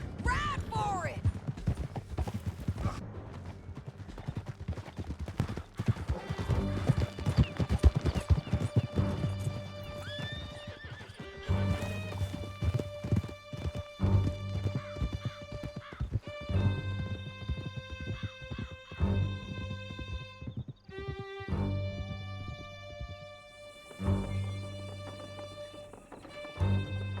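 Horse galloping in Red Dead Redemption 2, a steady rapid clip-clop of hooves with occasional whinnies, running throughout beneath game music and some spoken dialogue.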